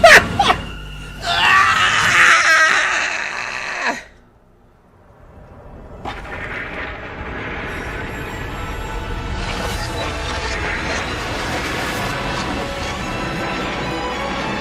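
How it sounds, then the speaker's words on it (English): Loud scream replayed during a livestream, a harsh sustained shriek for several seconds that cuts out, followed by a short gap and then busy background music and game sounds. "Damn, that was quite the fucking scream"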